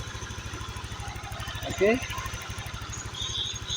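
Honda Vario 125 scooter engine, freshly rebuilt after a decompression fault, idling with a steady fast putter throughout, a brief rev blip near the middle, and someone speaking briefly over it.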